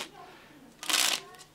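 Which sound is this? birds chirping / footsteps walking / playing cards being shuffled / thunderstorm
playing cards being shuffled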